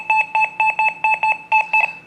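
A Deus 2 metal detector with a coin program on version 3.1 sounds over nickels, giving a loud, clipped run of about ten steady electronic beeps in uneven pairs, close and alone.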